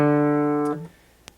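A single open fourth-string D note on guitar, starting a D scale, rings steadily for under a second and then cuts off, leaving near silence with a faint click.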